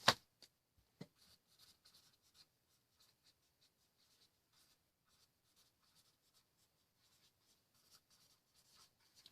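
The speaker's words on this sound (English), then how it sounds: "I want to write it down" A pen scratching across paper as someone writes by hand, faint and close, with soft irregular strokes and small taps spread across several seconds after an initial knock.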